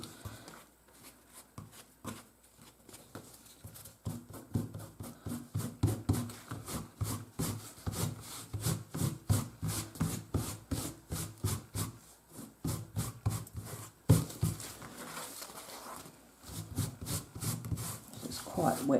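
Hands rub wet paper off an inkjet print image transfer, giving a steady, close run of soft scrubbing strokes in a quick repeating rhythm that continues throughout, with brief pauses between passes.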